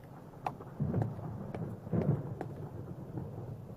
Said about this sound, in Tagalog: Meron paparating na bagyo ha.